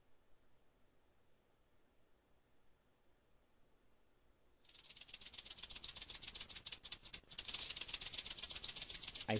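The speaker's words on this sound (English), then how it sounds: "It sounds more like a snake's rattling." A dry, hissing rattle like a snake's tail bursts in partway through and keeps buzzing steadily and loudly to the end, added as a sound effect to a reaction of a white powder with oxygen.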